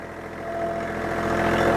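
A tractor engine runs steadily during swale construction, a close, continuous mid-pitched rumble with a rhythmic throb that swells slightly as the tractor swings around, with no talking.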